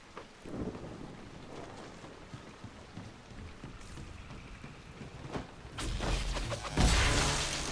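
A thunderstorm rumbles over the Fallow Mire in Dragon Age: Inquisition, with steady rain, scattered low thunder and a loud crack and rolling boom near the end.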